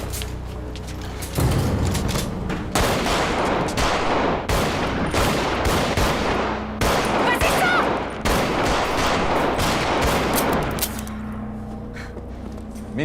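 Sustained gunfire in a 2008 French film about the armed group Action Directe: a long run of loud, closely spaced shots with continuous crackling bursts for about ten seconds, then a quieter, rumbling tail.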